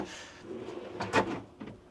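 A drawer slides out of a custom-built RV entertainment center cabinet, giving a close, rumbling wooden scrape that peaks in a sharp grinding rattle, followed by a softer bump.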